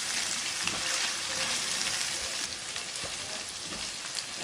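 Spices and scrambled eggs sizzle and crackle as they are stir-fried together in a pan, a loud continuous frying hiss with light scraping stirs, close up and without speech.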